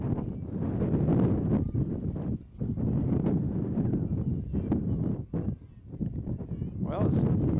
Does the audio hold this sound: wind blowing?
yes